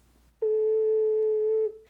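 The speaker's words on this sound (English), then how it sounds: "The lowest note that you can play on an ocarina in the key of C is a low A." A single low A note on a C ocarina with all holes covered rings out steady and pure, held for over a second before fading.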